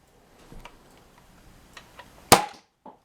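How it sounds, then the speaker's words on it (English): A modified Adventure Force Aeon Pro blaster fires a mega dart with one sharp, loud snap, preceded by faint handling clicks and followed by a brief quieter thud. "So let's take a fire of this mega dart here."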